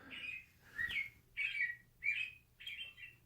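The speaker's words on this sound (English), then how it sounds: "That's our bird clock I got from my wife." A household bird clock marking three o'clock with five evenly spaced, bright chirping bird calls, moderately quiet in a room with faint background hum and no talking.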